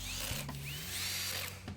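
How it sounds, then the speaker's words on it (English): Hand-held power drill driving threaded inserts into wood for a laboratory table, a steady close mechanical whir with brief ratcheting bursts from the clutch and a low motor drone throughout, no voices. "With my hand drill set to the correct torque and the ability to keep it straight, all the threaded inserts were placed into the wood in no time at all."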